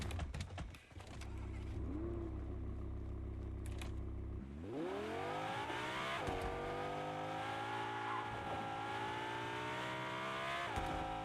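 A car driving in Fortnite, its engine note dropping at first and then rising steadily as it accelerates, holding a loud, even drone close by with brief bumps, and no talking over it.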